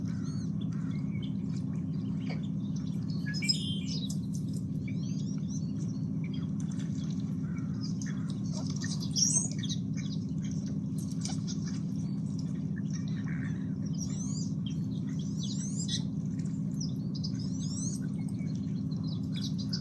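Small birds chirp and tweet in scattered bursts from a screen being watched by a hairless cat, thin and distant over a steady low hum that runs throughout.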